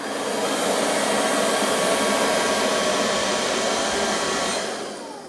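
An Ilife V3s robotic floor sweeper running in mop mode gives off a steady, loud whirring drone of motor and airflow, close and unbroken for several seconds before easing off slightly, with no talking.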